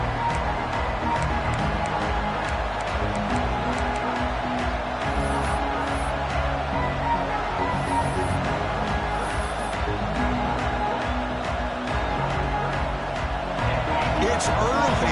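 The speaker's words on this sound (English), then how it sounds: "It's early, but this crowd is fired up. Listen to this noise here." A stadium crowd at a college football game, Alabama against Ohio State, roars loudly and continuously, a dense sustained wall of cheering and shouting with voices mixed in.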